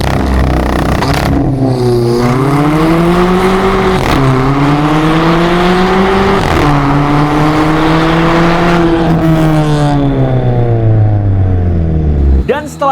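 A tuned VW Polo with a stage 2 tune and cold air intake accelerates hard, its loud engine and intake roar climbing in pitch through several pulls, with brief dips at each gear change, close and dominant throughout.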